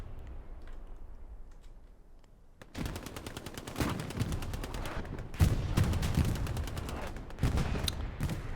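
Competitive Hell Let Loose firefight: after a quiet start, sharp automatic gunfire erupts in rapid bursts, with louder volleys layered over one another and brief gaps between them.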